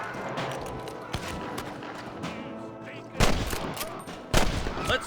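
Gunfire in Red Dead Redemption during a shootout with cattle rustlers: scattered rifle and revolver shots crack at varying distances over a rumbling background, with two loud close blasts near the end.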